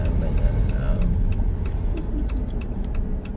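A car passes on a Los Angeles street near the stadium, a steady engine rumble and road noise close by, with people chatting over it.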